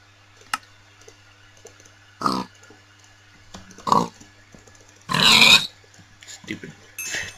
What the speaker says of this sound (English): Stupid pig